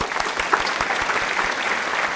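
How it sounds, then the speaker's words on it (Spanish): Applause from a studio audience at a television talk program, a short burst of dense clapping heard close and steady. "Un aplauso."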